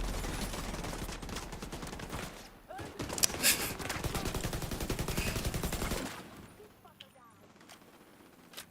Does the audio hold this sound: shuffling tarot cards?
no